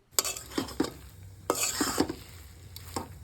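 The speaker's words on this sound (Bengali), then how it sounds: "এবার কাটা ছাড়ানো মাছগুলো শাকের মধ্যে দিয়ে ভালো করে নাড়তে হবে।" A spoon or spatula stirs deboned chang fish into pea greens in a pan, giving scraping clinks in two bursts with a soft sizzle beneath.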